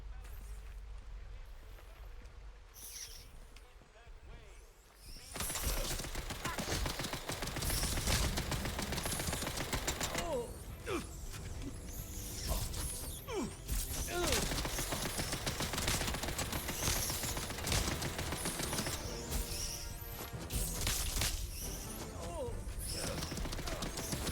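Machine gun fire in the video game Atomfall: after a quiet opening, dense sustained automatic bursts erupt and continue loud and rapid for about twenty seconds, mixed with crashes and impacts.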